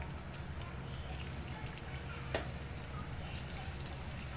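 Pakoras being fried in oil for kadhi, a steady low sizzle and bubbling that runs without break, close and fairly quiet, with one brief sharper crackle near the middle.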